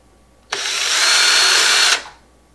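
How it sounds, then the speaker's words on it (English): A power drill whirs at high speed for about a second and a half while pre-drilling screw holes in a DIY foam RC Cessna Skymaster model, starting and stopping sharply, loud and close, alone. "And pre-drill those to make everything easy."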